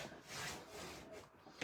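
A burnisher rubs over paper that has been stuck down on an album page with a ruler nearby, giving a soft, close scraping swish in slow continuous strokes, quiet throughout.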